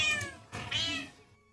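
A pet cat meows twice in quick succession, close and fairly loud, the second call longer and rising before fading out.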